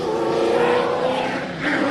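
An Alfa Romeo Group B-based rally car roars past on a TARGA Tasmania stage at George Town, its loud, steady engine note filling the whole moment and rising slightly at the end, with no talk.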